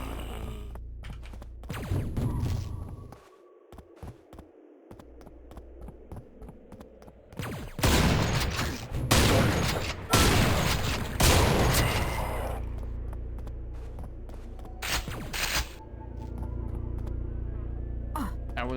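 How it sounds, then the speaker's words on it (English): Shotgun blasts in the Quake game's brutalist hub level: several loud, sharp bursts with reverberant tails, clustered in the middle stretch, plus a couple of scattered shots over a low, steady ambient hum. "That was another shotgun."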